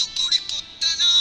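A bright electronic phone ringtone from an incoming call repeats in short pulses, loud and close, with a brief gap before the tone resumes.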